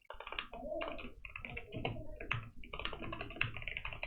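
Quick, steady clatter of keys as a command is typed on a computer keyboard, close and fairly quiet, with dense bursts of keystrokes and brief pauses between them.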